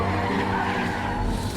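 A car brakes hard and its tires skid in one loud, sustained screech with engine rumble underneath, close and continuous for the whole moment.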